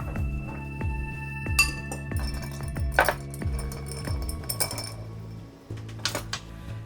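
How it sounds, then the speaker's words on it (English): Ice and a bar spoon clink against a mixing glass while a Brandy Crusta with Pierre Ferrand 1840 cognac is stirred, with repeated bright chinks and taps over a steady low background hum. "Let's give it a stir"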